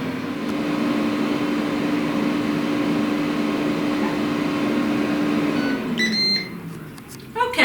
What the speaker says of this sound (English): the air fryer just went off at 14 minutes